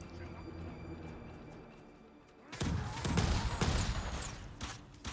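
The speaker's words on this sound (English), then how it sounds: "Gonna make my life a little bit easier by throwing some bombs." Bombs thrown and exploding in Ghost of Tsushima's Iki Island on the Lethal+ difficulty, a sudden loud blast followed by a few more crashing bursts over game music, with a voice talking beneath.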